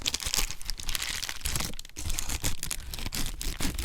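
Scissors trimming the edges of a plastic shipping bag, a dense crinkling and rustling of plastic with short snips, close and continuous for a few seconds.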